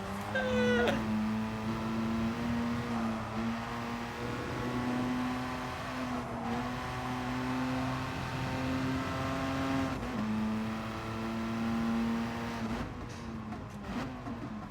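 Car engine in the racing game GT Sport, revving up and down through repeated rising and falling pitch sweeps while drifting, a sharp rev cut near the start, steady and clear with no talk.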